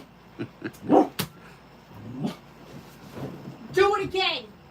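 A small puppy named Luna gives several sharp, high yips and barks close by, with whimpering and growly squeals, while people talk loudly around her.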